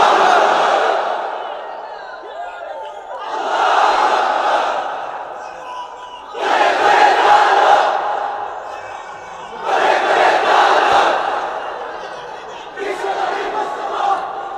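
A large crowd at an Islamic sermon gathering shouts the takbir in unison, five loud surging chants separated by brief pauses, each a massed roar of many voices filling the hall.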